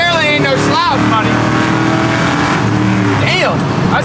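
A 1975 Corvette with a four-speed manual, in sketchy condition, revs and accelerates loudly up close, its engine note rising and shifting through gears while someone talks over it.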